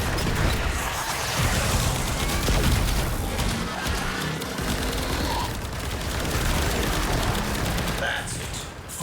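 Heavy weapon fire from Warframe arc-wing combat against the Profit Taker, continuous rapid shots and crashes in a loud, dense mix, with a voice talking over part of it.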